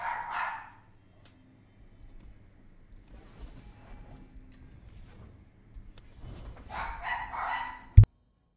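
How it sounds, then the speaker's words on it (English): Household dogs bark, with a loud burst at the start, fainter yips in the middle and another round of barking near the end, then a sharp knock at the close, all indoors with no talking. "Sorry if the dogs go bonkers for a second."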